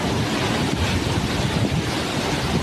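Hurricane Rafael's wind roars steadily in Havana, a dense, loud, continuous rush buffeting the microphone, with no voices.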